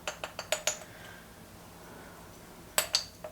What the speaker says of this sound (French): Je vais mettre une cuillère à café d'épices à tacos.